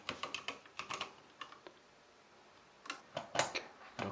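Keystrokes on a computer keyboard as a recovery key is entered, a quick burst of clicks, a pause, then another cluster of taps, close and fairly quiet with no talking.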